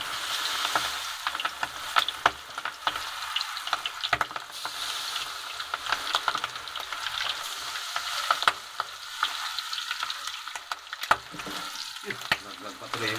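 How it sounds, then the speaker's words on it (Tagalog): Chicken feet deep frying in a pan of hot oil, a dense, steady sizzle and crackle with scattered pops and occasional stirring clatter throughout. "Piprito na."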